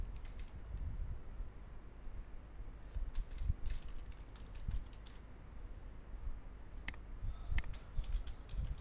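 A search is typed on a computer keyboard, with close, light clicking keystrokes in irregular bursts over a soft background hiss and no talk.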